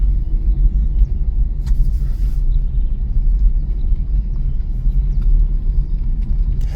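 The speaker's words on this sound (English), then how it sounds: "And now this car is moving fast." A car moving fast, a steady low road rumble and engine drone filling the cabin continuously, with faint clicks above and no voices.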